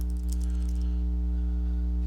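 Typing on a computer keyboard, a steady patter of key clicks over a loud constant low hum, close and continuous with no talk.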